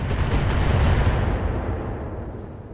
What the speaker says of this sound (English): I'm just gonna rain ammo down on this guy.